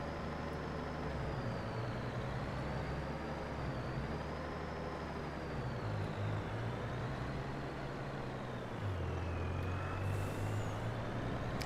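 A heavy truck's engine drones steadily in Farming Simulator 22, its pitch shifting with gear changes and load, with a hissing air-brake release near the end.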